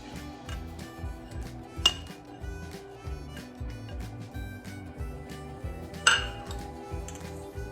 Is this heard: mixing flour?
yes